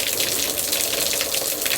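An outdoor shower beside a pool at a home in Costa Rica pours out a steady, full rush of falling water, like a small waterfall, with no break.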